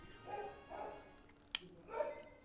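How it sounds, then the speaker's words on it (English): A dog lets out a few faint, muffled barks and yips in the background of a quiet room, irregularly spaced, with a brief sharp click partway through. "You can hear the dog go bork."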